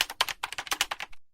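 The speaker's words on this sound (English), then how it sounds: "You're supposed to be typing." Fingers type on a computer keyboard in a rapid, slightly uneven run of about a dozen clicking keystrokes, close and clear, ending abruptly.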